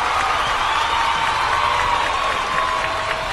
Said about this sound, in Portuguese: Querida Aline, vamos aplaudir aqui, porque tivemos uma aula aqui.